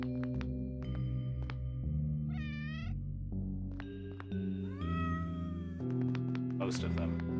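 A cat in a video game meows several times while being petted, bright rising calls over a soft game music bed, with voices speaking in between.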